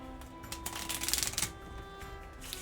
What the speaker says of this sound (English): I also just like to shuffle